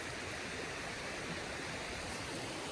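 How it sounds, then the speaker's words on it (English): Water flowing in a wilderness creek, a steady, even broadband rush that holds without change, moderately quiet and with no voices. "Creek right there."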